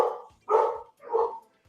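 Dogs bark three times in quick succession, a couple of sharp mid-pitched barks separated by short pauses, reacting to a package delivery, moderately loud and close with no speech.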